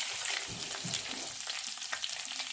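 Sweet potatoes and ordinary potatoes fry in a pan with a steady, close hiss and crackle that holds through the whole stretch, with a few soft scrapes underneath and no talking.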